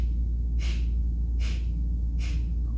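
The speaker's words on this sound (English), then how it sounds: "Now exhale 4 times." Three sharp, forceful exhaled breaths in Naam yoga breathwork, evenly spaced and close, each a short breathy burst over a steady low hum.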